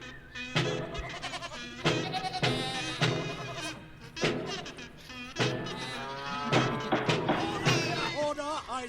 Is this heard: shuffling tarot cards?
no